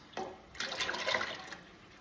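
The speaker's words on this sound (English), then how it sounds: "I am going to add 6 cups of heavy cream, and I am just whisking it as I'm pouring it in" Heavy cream poured into a pot while being whisked gives a soft watery rush that starts abruptly, fades, then swells again into a longer, brighter splashing pour before trailing off.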